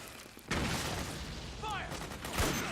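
Gunfire in a Metal Gear Solid 4: Guns of the Patriots battle, a steady clatter of shots and blasts kicking in after a brief quieter start, with game voices calling out over it.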